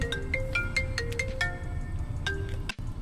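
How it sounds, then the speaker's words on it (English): A phone rings with a melodic electronic ringtone: a quick sequence of bright tonal notes playing over background noise, briefly cut off near the end. "Of course, my phone rang"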